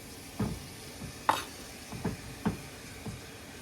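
Cubed beef sweats in hot oil for Persian ghormeh sabzi, giving a faint, low sizzle broken by a few soft clicks and stirring scrapes at irregular intervals.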